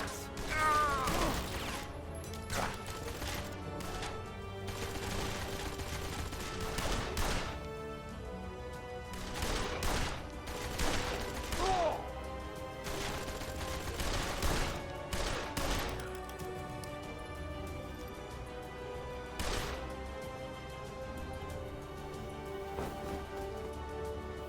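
Gunfire in the video game Blues and Bullets, with bursts of shots and crashes recurring through a busy mechanical soundtrack, fairly loud and rhythmic in clusters.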